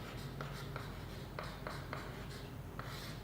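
Chalk scratches across a board during a Class 12 physics lecture on moving charges and magnetism, with quick, evenly spaced strokes tapping out a steady rhythm at low volume.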